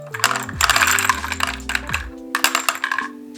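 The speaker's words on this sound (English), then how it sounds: "We'll simply roll these in the top here." Brass 5.56 rifle cartridges roll one after another into the top of a MagPump magazine loader, giving a quick run of light metallic clicks and clinks close up, with a faint mechanical ratcheting beneath.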